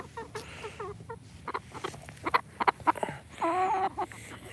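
Several chickens cluck and squawk nearby in a backyard coop, with short bursts repeating in an irregular rhythm and a drawn-out call toward the end, set over steady low background noise.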